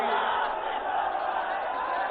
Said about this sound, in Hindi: अपार भीड़